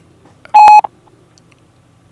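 A single loud telephone dialing tone sounds for about a quarter second as a call is started, with faint low background noise before and after and a brief click at the end.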